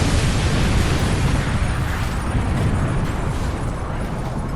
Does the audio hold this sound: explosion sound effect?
yes